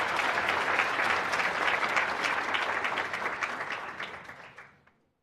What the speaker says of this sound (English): can we please give a round of applause